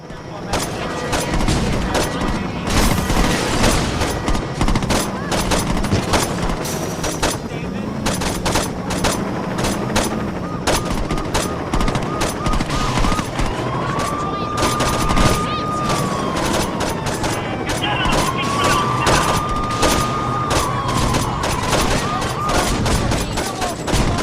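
Mounted gun firing in the video game Saints Row 2, dense continuous automatic bursts with booms and crackle throughout, loud and close, with character voices speaking over the din.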